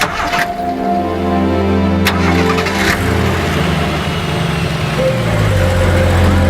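A vehicle's engine turns over and settles into a steady, loud rumble as it is sent off, a van hauling an unidentified body from Jhanda Chowk in Karachi, with a sharp click and street noise around it.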